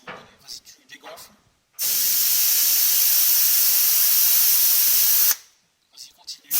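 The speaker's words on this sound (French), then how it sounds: "on va dégonfler le avant gauche" Air hisses out of a car's front left tyre being deflated, a loud steady high-pitched rush lasting about three and a half seconds, with brief speech and clatter before and after.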